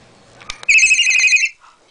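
Pet bird imitating a cell phone ringtone, a bright electronic-sounding warble held for under a second after a couple of small clicks, loud and close in a quiet room.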